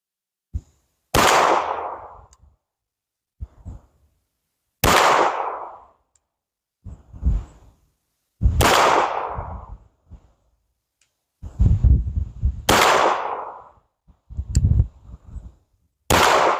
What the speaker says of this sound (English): We're going to do one-handed just like they do, 5 shots, no time limit